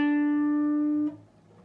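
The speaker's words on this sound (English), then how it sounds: "after you've picked it you're going to slowly push that note up the neck a full step" One guitar note on the seventh fret of the G string, picked and bent up a full step, sustains cleanly for about a second before being cut off, leaving quiet room noise.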